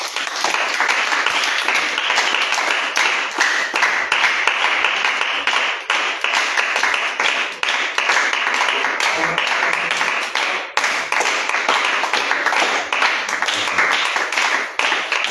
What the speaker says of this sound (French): Est-ce que tu vas acclamer le Seigneur?